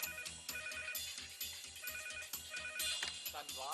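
A telephone's melodic ringtone plays loud and close, repeating in a steady rhythmic pattern with a bright tinkling layer on top, filling the whole moment.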